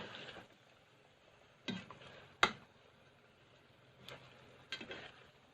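Bihon rice noodles being stirred together with ground beef in a pan, with a few sharp scraping and clinking hits spaced apart over a quiet low sizzle.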